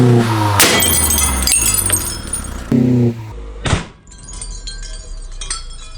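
A wine glass set head down shatters with a sharp crash around 3.7 seconds, followed by scattered tinkling fragments; a loud engine-like hum rumbles in the first half before it.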